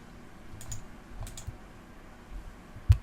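A computer keyboard key pressed during a Blender UV-unwrapping session: a few soft, close clicks and taps, with one sharper louder press near the end, otherwise quiet room.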